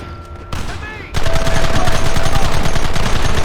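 Loud, dense gunfire in the Western video game Red Dead Redemption, rapid continuous shots and volleys that erupt after a brief quieter lead-in and then keep hammering without letup, with voices shouting amid the shooting.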